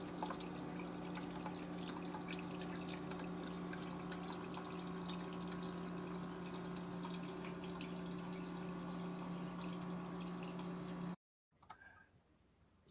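Water sprays steadily onto a waterproof AudioControl amplifier in a demo, a continuous hiss over a low steady hum that cuts off abruptly near the end, followed by brief clatter.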